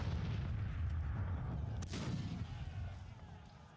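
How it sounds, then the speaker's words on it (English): Battle sounds from the Civil War strategy game Grand Tactician: The Civil War, with a dense continuous rumble of artillery and massed musket fire and one sharper blast midway. "The din of artillery was tremendous, the rumble of musketry consistent."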